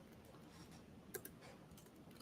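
Quiet, close tapping on a computer keyboard, a few soft clicks with one sharper keystroke, set against a faint room hiss.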